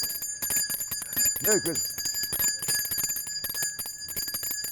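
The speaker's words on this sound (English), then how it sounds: "This bell rings constantly." A handbell ringing steadily, bright sustained metallic tones repeating throughout, close and fairly loud, with a person speaking briefly over it during a Christmas-season street scene.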